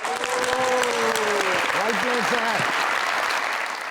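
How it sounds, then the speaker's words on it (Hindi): A studio audience at a talk show applauds in a dense, steady patter of clapping for about four seconds while a voice rings out over it. "इनके लिए बहुत सारी तालियां।"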